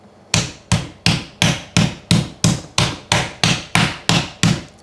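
Meat is pounded under plastic wrap with a mallet in steady, evenly spaced heavy thuds, about two or three per second and close up, with no talking.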